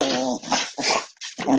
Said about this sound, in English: Come here, big old corgi.